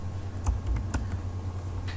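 Fingers type on a computer keyboard: a few sharp, irregular keystroke clicks sound close over a low steady hum, with no voices.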